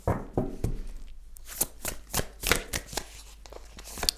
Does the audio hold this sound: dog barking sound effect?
no